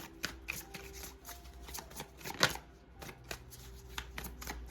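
Tarot cards drawn from a deck and flipped onto a surface, giving a run of quick, dry papery snaps and slides at an irregular pace, close and fairly quiet, with one sharper flick in the middle.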